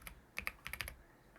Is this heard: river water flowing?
no